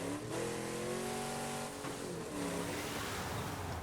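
Car engine in State of Decay 2, droning steadily with rising harmonic revs and a brief tire squeal, loud and continuous throughout with no talking.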